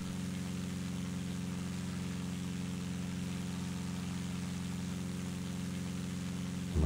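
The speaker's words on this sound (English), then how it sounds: "Let's ease the engine down." Cessna 177RG single piston engine throttled down in X-Plane 11, a steady, loud, droning hum with strong low harmonics running evenly throughout, alone with no voices.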